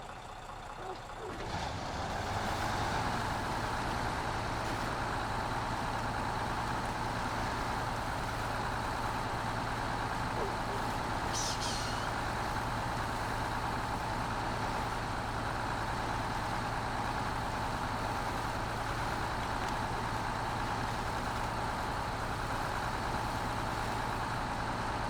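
A truck engine drones steadily while driving on the road, a constant low rumble with a higher whine from the drivetrain, holding loud and even for the whole stretch after a brief quieter start.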